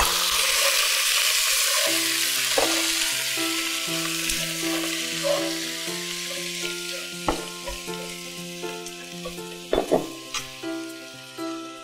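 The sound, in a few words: water added to frying vegetables in pan, sizzling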